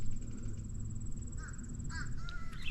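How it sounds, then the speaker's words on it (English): Crows calling in a garden with eggplant and cucumber beds, a few short harsh caws around the middle and end of the stretch, fairly distant and faint over steady outdoor background hiss. "hello to the crows"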